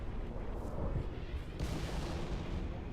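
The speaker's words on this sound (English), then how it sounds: "So we throw all the grenades away that we can because they'll chain react" Several grenades go off in a rapid chain in the Halo MCC game, a dense run of loud overlapping blasts and rumbling booms with a fresh burst partway through.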